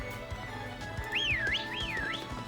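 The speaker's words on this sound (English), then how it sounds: "if we whistle like that, you can see that the Pokemon will follow us" In the Pokemon Sword video game, the player character gives two rising-and-falling whistles in quick succession, clear and tuneful over a soft rhythmic background game soundtrack.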